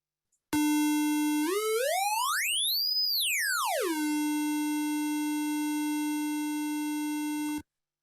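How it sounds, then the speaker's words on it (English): Square wave test tone through a speaker simulator: a bright, buzzy steady tone that sweeps sharply up in pitch, peaks, then glides back down and holds, loud and alone, cutting off abruptly after about seven seconds. "I'll just do a square wave here"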